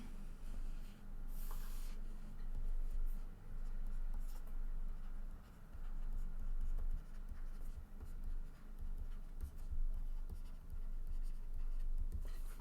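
Pen scratching on paper during an engineering lecture, steady soft writing strokes continuing for several seconds at close range over a low room hum.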